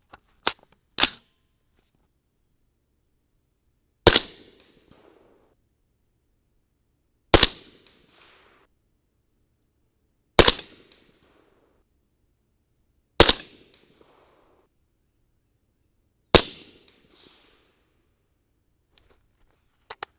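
300 BLK rifle firing 208 grain Hornady ELD Match bullets from a 10.3-inch Ballistic Advantage Hanson barrel: sharp single shots, about six of them, evenly spaced a few seconds apart, each a loud crack with a short decay into quiet.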